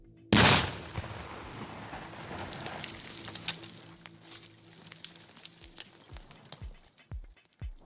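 Controlled detonation of unexploded ordnance at a hotspot clearance site in Albania. One loud, sharp blast comes at the start, then debris patters and clatters down over several seconds.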